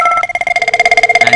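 A Cisco IP phone, extension 2002 on an ephone lab setup, rings with a rapid pulsing electronic warble, steady and close, with no talking over it.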